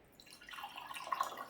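Distilled water trickles and drips softly into a container for an electrolyzer, a faint, uneven liquid patter that grows slightly busier over a second and a half.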